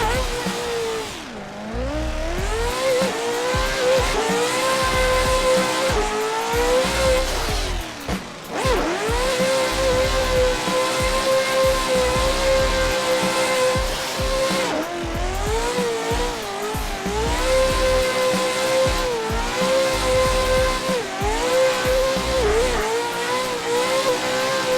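Drift car in a racing video game, engine revving hard through shifting pitch with tire squeal and skidding throughout, loud, close and continuous with no talk.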